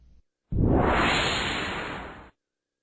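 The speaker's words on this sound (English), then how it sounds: "For a final touch, let's add some sound effects, a whoosh to the final animation" A single smooth whoosh sound effect for a text animation swells quickly and then fades out over about two seconds, standing alone against silence.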